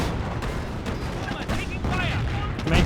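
Tank main gun and battlefield fire in Company of Heroes 1, a rear-armor shot on a Firefly amid scattered heavy blasts and crackling impacts, with a commentator talking throughout.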